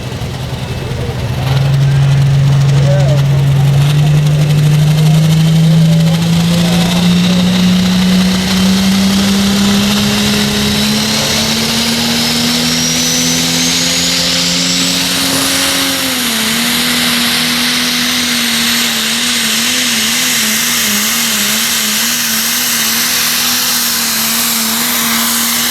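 A Landini tractor in the Pro Stock final at a tractor pulling event in Fiume Veneto, 2014 2 Nations Cup, roars loud and close in one sustained pull, its pitch climbing steadily before levelling into a wavering drone.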